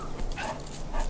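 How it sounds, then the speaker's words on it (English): Neighbor's dog making short excited vocal sounds, a couple of brief whimpering yips over a steady background rumble, close and fairly loud. "my neighbor's dog is actually coming to say hi"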